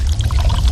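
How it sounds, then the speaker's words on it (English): Coke Zero Sugar pours into a glass in a close, loud, continuous fizzing cascade with no pauses. "Listen to that cascading liquid"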